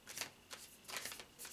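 Moon Oracle cards being shuffled by hand, three quick papery riffling bursts close up with short pauses between, no voices.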